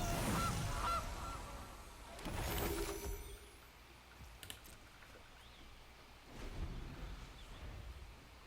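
A game sound effect for a goose card in Magic: The Gathering, with a honk at the start and bursts of noisy effects later, set against a quiet hiss with faint clicks.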